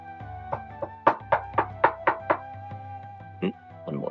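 A series of seven sharp, evenly spaced knocks on a door, loud and close, used as a sound effect in a tabletop role-playing game session, followed by a brief pause and a couple of softer thuds.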